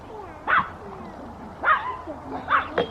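Pet dogs in a house, including one named Oscar, give three separate yips and barks with whimpery edges, moderately close over a low room hiss.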